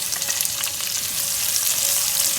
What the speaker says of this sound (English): Let's just fry it until it caramelizes nicely.